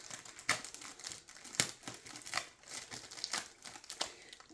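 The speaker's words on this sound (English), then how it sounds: "we are going to try to not tear this dust cover" A thin plastic dust cover is peeled slowly off a diamond art canvas, giving faint, close crinkling and crackling in short irregular bursts.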